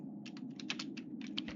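Quick, uneven bursts of keystrokes clatter on a computer keyboard, close and quiet, with a low steady hum running underneath.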